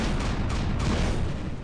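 The Shredder, a light weapon in the War Robots game, fires a dense, continuous roaring barrage of rapid shots, loud and close throughout, with no talking.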